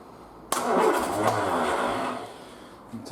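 A Triumph Spitfire engine running on a single carburettor conversion catches with a sudden burst, then revs under a blipped throttle before settling back, loud and close throughout.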